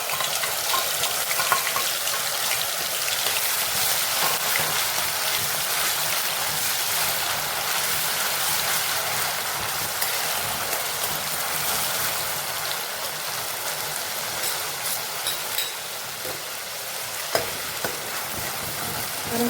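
Crushed onion fried with cumin seeds in hot oil for pav bhaji, giving a steady, close sizzle with scraping stirring sounds throughout, no talking.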